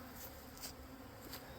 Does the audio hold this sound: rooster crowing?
no